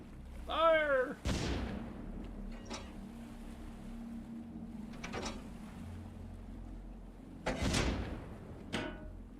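Main gun turret on a ship in the Stormworks video game fires in heavy booming blasts, a few separated shots with sharp attacks and rumbling tails over a low engine hum, one whooshing sweep at the start.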